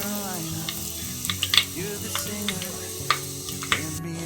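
Asafoetida sizzling in hot tempering oil for tomato rasam with crushed garlic and green chillies, a steady close frying hiss broken by small crackles and a few sharp pops, with a low hum underneath.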